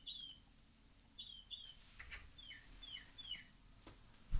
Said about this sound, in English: I think a bird just came into my house.